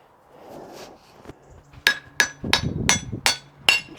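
A hammer strikes a clamped, quieted anvil on its stand, with about six sharp metallic blows in a loose rhythm, each with a short dulled ring, close and fairly loud after a moment of quiet shuffling.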